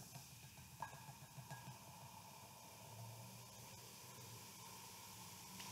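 Carbon dioxide gas fizzes from a reaction made for a candle experiment, a faint continuous hiss with light crackling pops that carries on steadily throughout.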